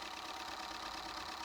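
Small Keppe electric motor running on 3 volts and under 6 watts, giving a steady, even whirring hum with a faint buzzy rattle, constant and moderately quiet throughout with no voices.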